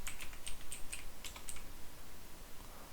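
Quick bursts of keystrokes on a computer keyboard while entering text in Microsoft Word, crisp close clicks in uneven clusters that thin out toward the end, no voices.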